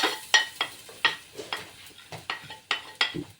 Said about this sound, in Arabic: هنزل عليها بشويه زيت، والبصله اللي كانت معايا في الاول خالص اللي انا قلت لكم عليها دي هاجي نازله بيها